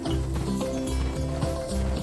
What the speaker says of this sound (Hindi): ये है शक्तिशाली घोड़ा